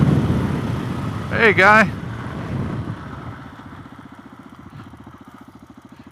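A Suzuki DRZ470S motorcycle engine settles to idle after the throttle is released, a low rumble that steadies into a rapid, even putter in the second half, with a brief voice calling out early on.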